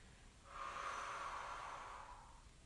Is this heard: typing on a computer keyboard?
no